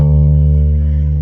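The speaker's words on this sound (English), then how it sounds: "And it's on the D string, which is the 3rd string from E" A double bass's open D string is bowed or plucked, giving a loud, deep, steady sustained tone with rich harmonics that rings alone for over a second.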